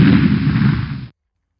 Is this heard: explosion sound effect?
yes